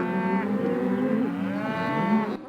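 Cattle on a long cattle drive moo loudly and close, one long drawn-out bellow bending in pitch and sliding into a second call, steady and alone with no talk.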